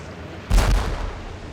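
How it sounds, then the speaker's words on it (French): A single heavy naval cannon shot from a ship in a sea battle between the CSS Alabama and an enemy vessel, a loud close boom with a rumbling tail that fades over about a second. "Le combat d'artillerie va durer 70 minutes."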